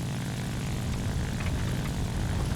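A propeller-driven warplane's engine roars at takeoff in the flight combat game War Thunder, producing a loud, steady, dense drone that continues without a break.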